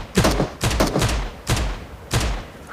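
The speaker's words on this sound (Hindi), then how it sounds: "वैसे भी कोई फायरिंग कर रहा है ऊपर" Gunfire in PUBG Mobile comes as four close, loud bursts of rapid shots with heavy thumps, spaced under a second apart.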